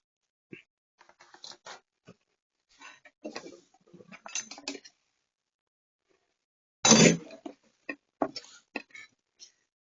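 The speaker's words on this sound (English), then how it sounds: "We're about to fillet it." A knife works through a snapper fillet with scattered light scrapes and taps, then one louder burst of cutting midway, all close up and without voices.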